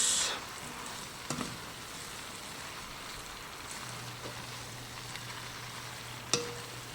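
Sausages and cabbage fry in a pan with a steady soft sizzle, broken by a few faint clinks and stirring sounds. No one speaks.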